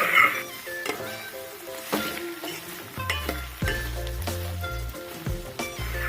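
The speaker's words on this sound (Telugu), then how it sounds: "ఆలుగడ్డలు పిండి పదార్థం కాబట్టి నూనెలో వేయగానే గిన్నె కట్టుకుపోతూ ఉంటాయి అలా అతుకుపోకుండా మధ్యలో కలుపుతూ వేయించుకోవాలి" Potatoes fry in oil in a pan for a potato-tomato curry, a steady sizzle broken by several scraping stirs. Soft background music with tonal notes plays throughout.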